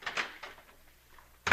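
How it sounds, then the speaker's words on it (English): A front door opening as a radio sound effect on a 1949 comedy show, heard as a short bright clatter of the latch and door at the very end, after faint rustling and quiet movement. "I'll open the front door and I'll come in again."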